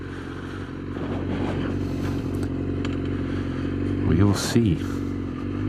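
A motorcycle rides on continuously, its steady engine drone running throughout with a brief rise around the four-second mark, while a rider speaks briefly over the noise.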